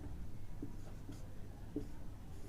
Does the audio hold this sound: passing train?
no